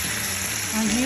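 Food searing in a hot pan on a stovetop gives a steady, close sizzling hiss that swells slightly toward the end, with a brief voice-like tone over it.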